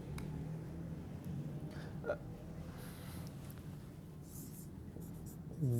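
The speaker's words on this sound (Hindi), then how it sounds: "यहां पर मैं लिख दूंगा स्टूडेंट्स," Chalk or marker scratching on a board during a class-nine computer lesson on data modeling, soft and continuous with faint room noise and a voice speaking over it.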